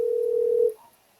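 A phone's ringback tone while calling someone: one steady, loud single-pitch tone that holds for about 0.7 seconds, then stops and fades into near silence.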